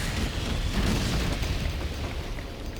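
A smart bomb detonates in the Duke Nukem Alien Armageddon game, giving a sustained, dense roaring explosion that rumbles continuously for a few seconds, loud and close without talk.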